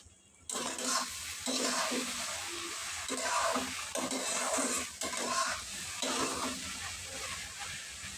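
Egg and potato curry frying and being stirred in a pan just after tomatoes go in, a steady close sizzle with scraping spoon strokes against the pot, and a brief quiet moment before the cooking noise starts.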